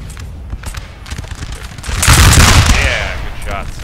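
Musket line volley in the Napoleon Total War video game, a dense crackling burst of many shots swelling to a loud rumble midway and fading into scattered pops, with game battle noise throughout.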